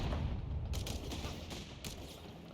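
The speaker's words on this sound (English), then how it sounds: "AT gun though is opening fire, does connect with the half track" Anti-tank gun firing on a half-track in a strategy war game, with a dense, continuous wash of battle noise and several sharp bright bursts standing out near the middle and end.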